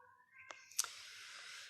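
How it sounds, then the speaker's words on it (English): A cat gives a short, rising meow close by, followed by a couple of soft clicks and then a steady hiss in a quiet room. "Why is she meowing so much?"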